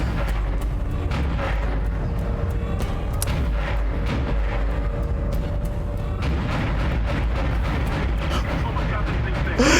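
A weapon fires repeatedly in the video game Dead Space, a loud, rapid stream of booming shots held down for several seconds under a player's speech.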